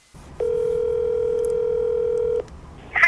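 A steady telephone dial tone holds for about two seconds while a call goes out to a cell phone, clear and alone, followed by a brief click.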